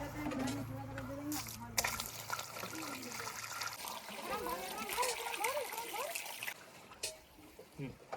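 Water splashing and trickling as it is poured out, a steady wet splatter running for several seconds with someone talking over it throughout.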